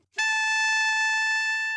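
An alto saxophone sustains one altissimo F sharp, played with the 1, 2 and side B flat fingering, a clear, bright held note sounding alone and up close.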